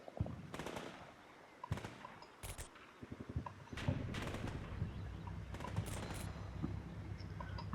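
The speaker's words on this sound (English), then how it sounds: "All bursts of MG fire." Bursts of machine gun fire in the combat game Combat Mission Shock Force 2, several rapid rattling volleys at mid distance amid steady battlefield ambience and scattered distant shots.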